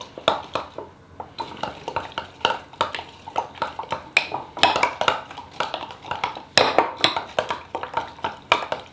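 Roughly chopped nuts being mixed into a bowl with a spoon, making repeated close clinks and scrapes against the bowl in a steady stirring rhythm.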